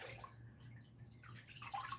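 Water is stirred and agitated by hand in a paper-making vat full of pulp, giving close splashing, sloshing and gurgling at moderate volume, continuous with small bursts of louder swishing.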